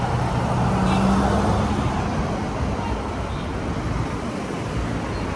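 Steady road traffic on a city street, cars and heavier vehicles rumbling past nearby in a continuous loud wash, with faint talk underneath.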